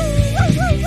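A robot toy dog gives a short electronic bark, a few quick yips with wavering pitched tones in under a second, loud and close with no talk.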